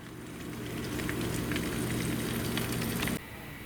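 Eggs fry for breakfast in a pan with a soft, even sizzle and light crackle pops. The sound holds steady and close, then suddenly drops to a quieter hiss near the end.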